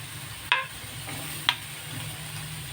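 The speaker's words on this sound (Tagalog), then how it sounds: "Lagay na rin natin yung gulay." Vegetables go into a frying pan while making mami noodle soup. Two sharp clacks of a utensil against the pan stand out over a faint sizzle, with no talking.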